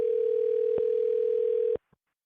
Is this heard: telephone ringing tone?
yes